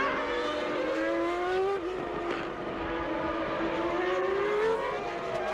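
1994 Formula One cars, a Benetton and a Williams, racing on a circuit, with a sustained high engine whine that rises and dips in pitch as the cars pass, loud and continuous throughout.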